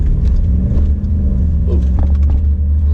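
A Honda car with a VTEC engine revs while driving, producing a steady, loud low rumble with rising engine tones that fill the cabin from start to finish.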